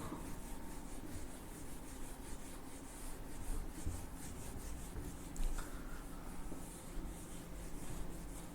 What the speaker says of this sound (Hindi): इसको मैं रब कर रहा हूं